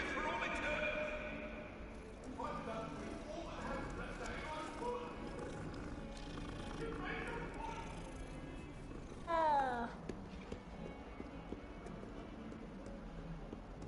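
A cat meows in short rising calls in the game Hogwarts Legacy, amid game sound effects and background music, with a person talking over parts of it.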